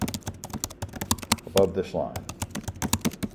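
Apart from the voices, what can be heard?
computer keyboard typing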